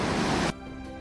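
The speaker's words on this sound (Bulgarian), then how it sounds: "Тук има и водопад." Waterfall at the natural entrance of a cave: a dense, steady broadband rush that fills the first half second, then drops to a quieter, more distant wash with faint tonal hum.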